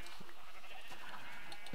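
Sheep bleating in the Minecraft video game, a few short repeated bleats over a steady dense background, fairly loud and close with no talk.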